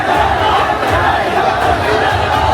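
Large protest crowd in Bareilly chanting slogans during an 'I Love Muhammad' march after Friday prayers, a dense continuous roar of many voices filling the street without a break.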